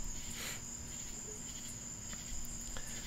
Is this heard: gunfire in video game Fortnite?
no